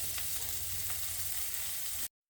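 Fish fillets frying in a hot pan give a steady, dense crackling sizzle with a few louder pops, close and continuous before cutting off abruptly.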